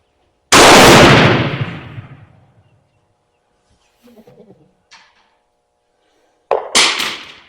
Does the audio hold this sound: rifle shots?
yes